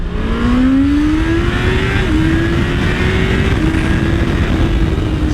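A comfort-oriented sport bike's engine runs loud and close, its pitch climbing as it accelerates through a couple of gear shifts over steady wind roar.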